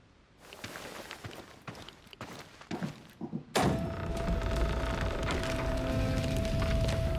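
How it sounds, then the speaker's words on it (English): A heavy gate opens in the Chernobylite video game: footsteps and scattered thuds lead to a loud boom at the midpoint, then a sustained mechanical rumble and hum as the gate moves. "Open the gate"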